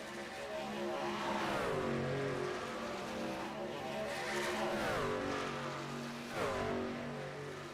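Race cars roar around Kansas in a sim racing game, several engines droning at once with pitch sweeps as cars shift and pass, a steady loud pack noise throughout.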